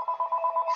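A telephone ringing close by, a rapid trilling bell that pulses steadily for under a second with no voices.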